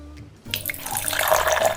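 Water poured into a vegan chocolate cake mixture in a home kitchen, a steady splashing pour starting abruptly after a brief quiet moment and growing fuller as it continues.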